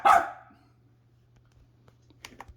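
A single loud, close dog bark at the start, then near silence broken by a few faint clicks and taps.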